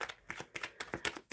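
Tarot cards being shuffled by hand: quick, close papery riffles and slaps in a brisk uneven rhythm, several bursts in a row, with no talking.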